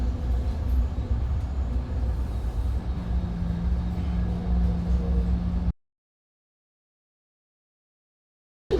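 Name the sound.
MBTA commuter rail train arriving at Bridgewater station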